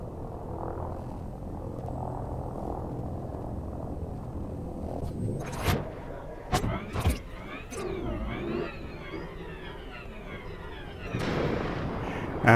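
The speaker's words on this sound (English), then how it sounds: "Frameshift drive charging." Elite Dangerous frameshift drive charging aboard a spaceship: a low, steady engine drone with rising whining tones and a few sharp mechanical bursts, ending in a louder surge.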